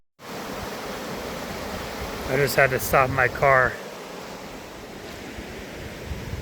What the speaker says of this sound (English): take a look at this awesome flow in this river over here